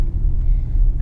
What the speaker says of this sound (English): These are called matatus, or buses